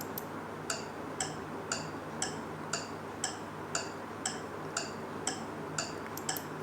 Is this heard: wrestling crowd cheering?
no